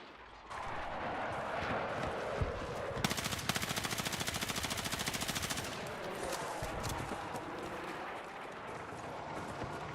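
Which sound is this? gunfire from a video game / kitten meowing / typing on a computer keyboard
gunfire from a video game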